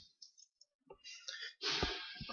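A deck of cards is shuffled at a card game tournament semifinal: sparse, soft clicks of cards, then a louder, denser riffle of cards close by with no talk.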